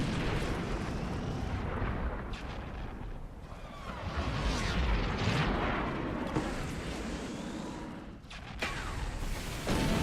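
Artillery fire and explosions rage in a mech combat video game, a dense continuous barrage of booms and blasts, loud and near, with heavy rumbling and brief lulls between waves.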